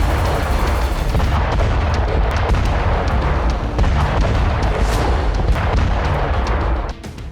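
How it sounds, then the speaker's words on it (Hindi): A Russian rocket launcher attack in Donetsk roars as a sustained, dense barrage of booming launches and blasts, loud and unbroken for several seconds before cutting off abruptly near the end. "डोनेस्क में रूस ने रॉकेट लॉन्चर से भीषण अटैक किया।"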